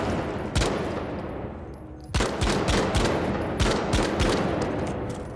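Akimbo guns in the shooter game The Finals fire in several rapid bursts of loud gunshots, each volley a quick stuttering run of sharp reports with brief pauses between, close and dominant over a steady background.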